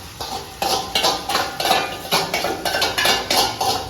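Marinated chicken cooked with Royal Stag whisky and tomatoes is stirred in a pan, with rapid, fairly loud metallic scraping and clinking of a spoon against the pan in a steady uneven rhythm.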